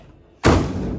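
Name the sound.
car door slamming shut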